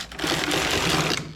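A knitting machine carriage is pushed slowly across the needles during a wide rib cast-on, giving one short, dense mechanical rattle of about a second, close and continuous, with no voices.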